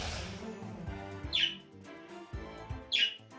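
Two short bright bird chirps from the video game Wizard of Legend, spaced about a second and a half apart over a busy game music backdrop.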